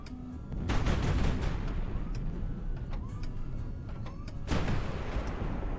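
A powerful, accurate semi-automatic weapon in the naval game High Fleet fires in a dense series of heavy booming shots, with two loud bursts standing out over a constant rumbling background.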